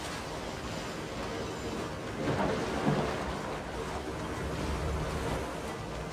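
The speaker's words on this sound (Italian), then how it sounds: "Così mi sembrava un tuono" Thunder in the sailing video game 32 America's Cup, a dull distant rumble that swells briefly midway over a continuous noisy wash like wind and sea, with no voices.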